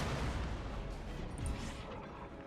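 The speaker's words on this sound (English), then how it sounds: "let's just have the artillery shoot at that" Artillery fires in an Empire Total War battle, producing faint, distant rumbling blasts and crackling reports that blur into a low, continuous roar.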